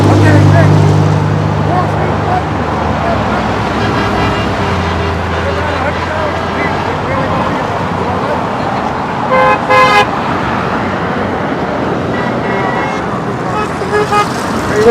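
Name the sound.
road traffic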